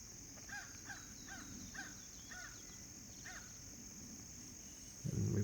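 A crow caws repeatedly in a steady series of hoarse calls, moderately distant over a quiet outdoor background with a faint high insect-like hum, ending with a brief low rumble.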